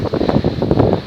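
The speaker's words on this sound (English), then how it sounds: "Wind's picking up." Wind gusts across the exposed Grain Tower sea fort off the Kent coast, a loud, close, rumbling buffet of noise hitting the microphone in uneven surges.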